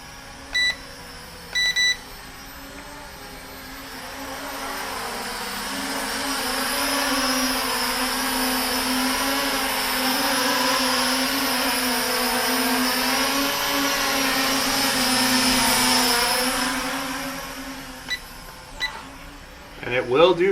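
A Syma X9 flying car drone spins up its small rotors and takes off in midair, with a loud, steady, high-pitched whine that rises and wavers for many seconds, framed by a couple of short beeps before and after.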